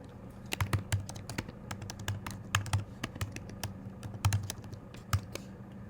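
Someone types on a computer keyboard in a quiet room, an irregular run of close, crisp key taps with short pauses between bursts.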